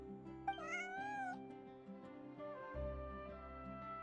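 A cat in Genshin Impact gives a short, rising meow over soft in-game background music, fairly close and clear.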